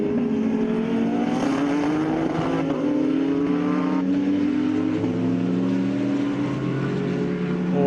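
A race car engine, the Semza and Scribante concrete car of Silvio Scribante, screams loudly and steadily at a National Extreme Festival circuit race, its pitch climbing through the gears as it pulls away from the pack.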